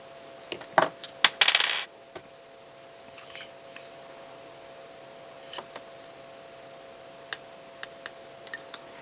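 Small sparkly jewels are picked up with a little tool and set onto a handmade card, giving a quick cluster of bright clicks and a short rattling tinkle early on, then scattered faint taps in a quiet room.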